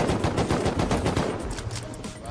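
Rapid bursts of explosive ammo gunfire in Rust crackle loudly and densely, shots tumbling over each other before easing slightly toward the end, with faint voices mixed underneath.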